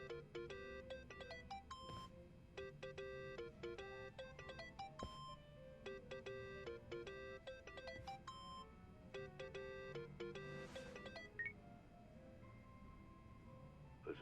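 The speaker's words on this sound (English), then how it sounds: "Think that's your phone, man." A phone rings in the video game Yakuza: Like a Dragon, a melodic electronic ringtone repeating in short bursts for several seconds, fairly faint and heard alone.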